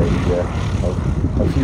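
WWII single-engine fighter, a D model, flying past at the Flying Legends airshow at East Leeds Airport, a steady broad propeller-engine drone at moderate distance throughout.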